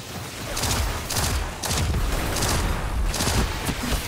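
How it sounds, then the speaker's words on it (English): Grenade explosions in Destiny 2 go off in quick succession, a run of loud, close booming blasts roughly every half second over a steady rumbling din, with no talk over them. "You guys are getting blown up."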